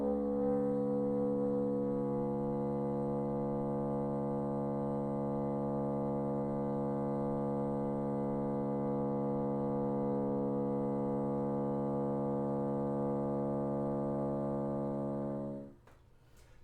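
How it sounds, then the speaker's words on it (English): Bassoon multiphonic from a low B fingering with the C sharp key added: one long, steady, buzzing chord of stacked tones held for about fifteen seconds before cutting off, close and alone. "So the first one that I want to show you is based on a low B fingering on a bassoon."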